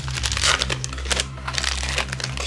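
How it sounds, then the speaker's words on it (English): Foil wrappers of 2021 Bowman Hobby baseball card packs crinkle and tear sharply close by, a burst of crackling rips followed by softer crumpling as packs are opened. "Ripping packs"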